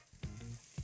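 Zucchini noodles dropped into a pan with garlic, giving a quiet close sizzle with a couple of soft thumps as they land, no talk.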